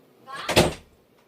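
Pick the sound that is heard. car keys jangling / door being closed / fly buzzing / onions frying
door being closed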